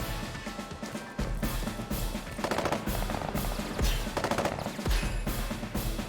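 Rapid machine-gun fire from units attacking in the Advance Wars video game, dense repeated bursts with punchy thuds running continuously and loud, with no talk.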